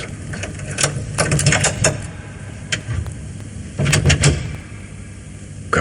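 A small door lock worked with a metal hook, giving a run of clicking, scraping mechanical ticks in two clusters, close and fairly loud, followed by the creak and clatter of the door opening.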